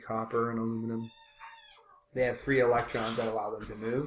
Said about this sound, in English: That's my cat. Did you hear my cat over there?